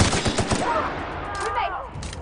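Rapid gunfire from the video game The Outer Worlds, a burst of sharp repeated shots at the start fading into softer tonal effects and faint voices.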